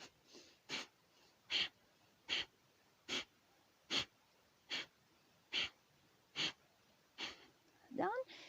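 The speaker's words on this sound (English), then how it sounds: "10 Kapalabhati Pranayama." Kapalabhati Pranayama breathing done in a squat: about ten short, forceful nasal exhalations in a steady rhythm, close and distinct against quiet, finishing with a deeper breath.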